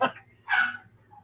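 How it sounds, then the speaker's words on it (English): A dog yips in the background, giving a short sharp cry at the start and a louder whining yelp shortly after, then a faint trailing whimper, all fairly distant. "I just wish I didn't have the yiping dog in the background"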